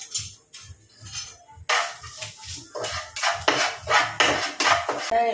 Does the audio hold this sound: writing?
no